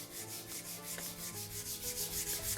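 A hand rubs quickly back and forth across an English bridal leather razor strop, making a soft, steady, rhythmic friction swish that is faint and close.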